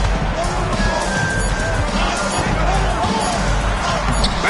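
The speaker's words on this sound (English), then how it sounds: "Banked it in off the glass." A basketball banked off the backboard glass in a basketball video game, with bounces and a sharp glass thud over steady arena crowd murmur, while a commentator's voice talks throughout.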